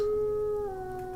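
A ghostly wolf in the fantasy game Enderal lets out a long, eerie, sustained howl that bends downward partway through, close and clear with no talking.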